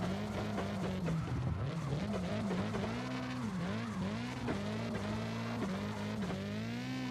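A drift car in CarX Drift Racing Online 2 revs hard and steadily for about seven seconds, its engine note wavering up and down as the throttle is worked, with faint tire squeal mixed in and no talking.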